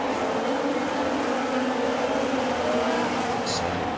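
Race cars pulling away at the start of the Austrian Grand Prix in a racing video game, a dense, loud, sustained engine roar from the whole field, with a commentator talking over it.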